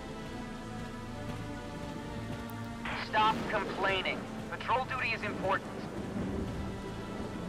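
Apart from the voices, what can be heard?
rain and thunderstorm in video game Valkyria Chronicles 4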